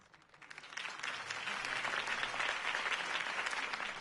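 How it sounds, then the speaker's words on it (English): Crowd applause from an audience at a political campaign rally in a Batman video game on PS4, swelling up within the first second and then holding as a steady, dense wash of clapping. "could have heard that applause"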